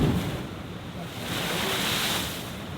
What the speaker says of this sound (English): when the ocean waves are coming in, they're forced into that small space and bursting at the top